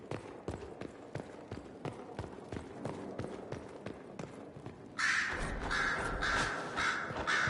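Crows cawing in the Dragon Age: Inquisition video game, a few harsh caws sounding over footsteps and background ambience, the last part louder and busier.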